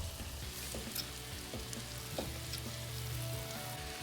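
Mussels tipped into a hot pan with curry powder for a Pondicherry-style dish, sizzling and frying steadily with a few stirring knocks and spits, close and continuous, no talking.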